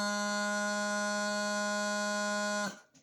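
A steady, reedy bagpipe practice chanter on a single low G note, held loud and unwavering for over two seconds before cutting off abruptly.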